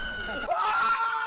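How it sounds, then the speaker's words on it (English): A short, high-pitched scream from a Jurassic World: Fallen Kingdom movie scene rises sharply and holds, heard against a faint background voice. "Screaming, by the way."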